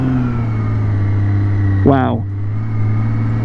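A BMW K1600 motorcycle engine idles steadily while creeping at about one mile per hour in the friction zone, a low, even hum with a brief rising whine midway and a single short spoken exclamation.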